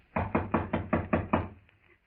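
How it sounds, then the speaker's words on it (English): Seven evenly spaced knocks on a door come in a quick, firm rhythm, moderately close and alone, then stop. "Shall I knock now?"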